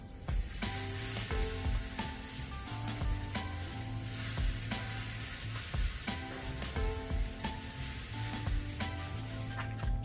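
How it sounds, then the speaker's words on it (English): Tri-tip searing on a Weber Smokey Mountain grill, giving a steady, close sizzle and crackle of frying meat that holds evenly throughout with small pops and no voices. "And then we'll start searing it."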